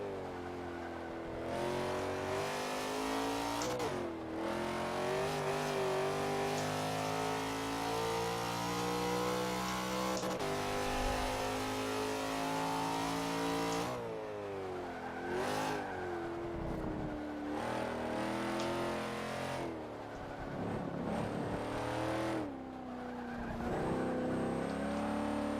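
A race car's engine in a racing video game, revving loudly and continuously through gear changes and corners, rising and falling in pitch for the whole stretch with no voices over it.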